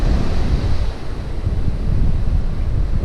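Continuous roar of surf washing into a small cove at a Melbourne beach with the tide out, loud and broadband, mixed with wind buffeting the microphone.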